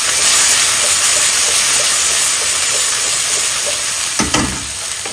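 Onions with ginger and garlic frying on high heat in a pan, a loud, steady sizzle and hiss that runs throughout, with a brief clatter of stirring near the end.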